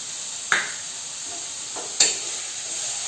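Salted onion frying in hot oil in a home kitchen pan for egg korma curry, a steady close sizzle and hiss broken by two brief stirring scrapes, with no voices.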